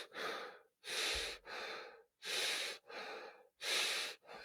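A person breathes in and out through a tightly sealed, fitted face mask, producing loud, close, airy breaths in a slow, regular rhythm of about six strokes, each with a brief pause between, and no talking.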